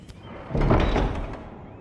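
In the Game of Thrones Telltale video game, a heavy door opens with a muffled thud and low scraping rumble at moderate loudness, set against a quiet ambient background.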